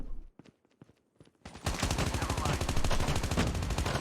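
Rapid automatic gunfire erupts in Call of Duty Mobile, a dense, loud burst of rattling shots running continuously after a few quieter clicks and thumps.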